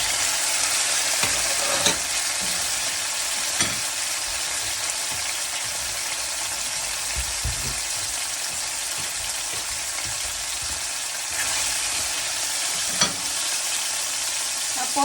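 Cherry tomatoes sizzling steadily in a hot pan, a loud continuous frying hiss punctuated by occasional scraping knocks of a utensil stirring them.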